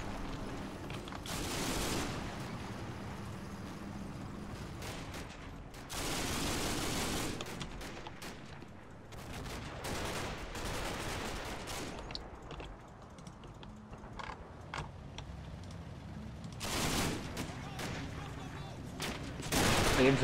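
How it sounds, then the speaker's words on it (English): Infantry gunfire in combat footage, with bursts of rifle and automatic fire at about 2, 7 and 17 seconds over a steady rumbling background, punctuated by scattered sharp cracks and clatter. "The infantry are coming up and starting to put some fire out."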